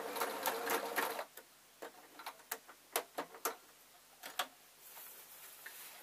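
A domestic sewing machine stitches a buttonhole rectangle on a simple lined waistcoat, heard up close as short rattling bursts of stitching separated by brief pauses at the corners, with no talking.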